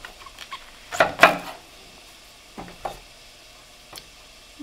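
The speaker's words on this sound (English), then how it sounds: "So we'll slice our leek" A knife slicing through a leek on a cutting board, a couple of close crunchy cuts followed by quieter, sparser strokes, with no one speaking.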